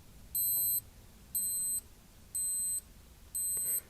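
A Casio G-Shock Mudmaster GWG watch alarm sounds four evenly spaced, high-pitched electronic beep bursts, each about half a second long, clear and close in a quiet room.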